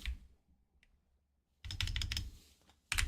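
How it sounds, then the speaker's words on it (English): Quick clicks of keys on a computer keyboard come in two close bursts after a nearly silent pause, with one faint tap in between. "I would just do some typing, Ctrl A, Ctrl C"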